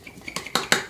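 A spatula spreads a thick no-bake lemon mixture over graham crackers in a dish, giving a few soft scrapes and three sharper taps of utensil on dish, close and alone.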